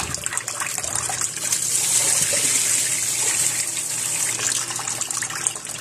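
A tap pours water steadily while raw chicken is washed, giving a continuous close gush and splash with slight surges and no voices.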